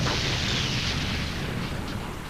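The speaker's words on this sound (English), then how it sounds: "you shoot what's called a line charge out over the minefield, so you have, in essence, a big rope of explosive laying across the field" A line charge, a long rope of explosive laid across a minefield, detonates with a loud, sustained roaring blast that slowly fades over a couple of seconds.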